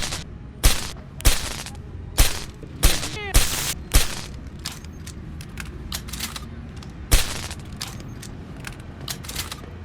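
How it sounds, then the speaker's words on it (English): In Deus Ex: Human Revolution, a stun gun gives a series of sharp, loud clicks and snaps, about seven in quick irregular succession, then one more after a pause, over a faint background with no speech. "I just like the click sound it makes"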